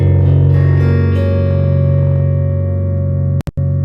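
A slide guitar plays sustained, ringing notes with its first string tuned down from E to D, then two brief clicks or dropouts near the end.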